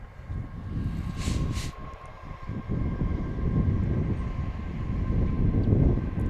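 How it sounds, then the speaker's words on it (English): A train passing near a baseball field, a broad low rumble that swells steadily and stays loud throughout, with a couple of brief high squeals early on. "We got the train going one way an hour ago. It's coming back the other way now."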